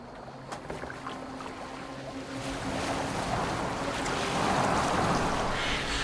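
A Viking longboat in Assassin's Creed Valhalla moves across open water, a soft wash of sea and wind that gradually swells into a louder, fuller rush of waves against the hull.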